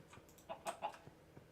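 A few soft chicken clucks from a survival video game farm, quiet and close, in a short irregular burst with no talking.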